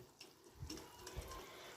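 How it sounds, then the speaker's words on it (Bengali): A little water goes into a cooking pan of frying potol and prawns, a soft close splash and trickle that is quiet and brief against faint kitchen background. "এই যে হালকা একটু জল দিলাম"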